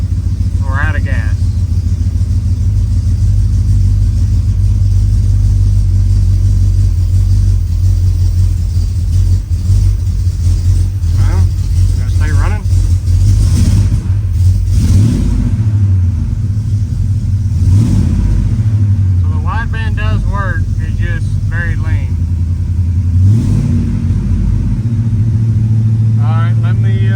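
A supercharged Ford F150 V8 idles with a deep, loud rumble and revs up several times, the pitch rising and falling, while people talk intermittently over the engine.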